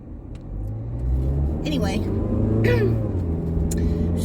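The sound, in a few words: inside a car while driving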